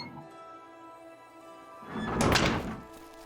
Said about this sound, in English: what if I go through this door?